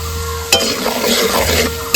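Grated tomato dropped into hot spiced oil with turmeric, salt and Kashmiri chili powder, bursting into a loud sizzle after a sharp splash, then steady frying and stirring for over a second.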